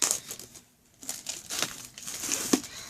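Packaging from a book subscription box ripped open by hand, with a few crinkling, tearing bursts of plastic or paper at close range, separated by brief pauses, without talking.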